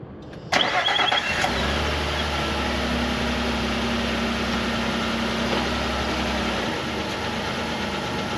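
A car engine starts with a sharp crank, then settles into a steady, close idle and running hum with a low drone that drops away near the end, no voices over it.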